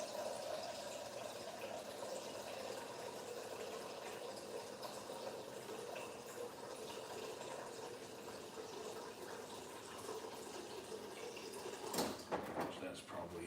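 Tap water runs steadily into a pot in a home kitchen, a faint continuous rush, ending with a short clatter of the pot.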